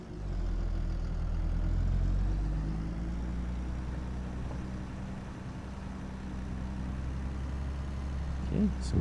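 A small 150 horsepower Fendt tractor engine in Farming Simulator 22 hums with a low, steady idle rumble that continues throughout, under faint background sound.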